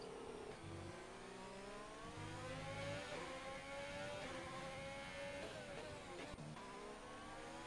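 Formula 1 race cars in a racing video game accelerate with steady rising engine whine, gear changes stepping the pitch up and down, loud and continuous with no talk.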